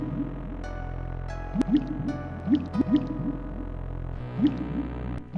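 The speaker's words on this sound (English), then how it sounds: "You maneuver your helmet beneath the drip and manage to snag a nice little dollop of the stuff." Pancreatic secretions drip in the Space Quest VI: Roger Wilco in the Spinal Frontier video game, a series of soft wet plops and squishes at irregular intervals over a low, steady ambient drone.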